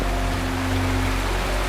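A steady, dense roar of falling water from a waterfall in the video game Wuthering Waves, continuous and even, with faint low tonal game music humming underneath.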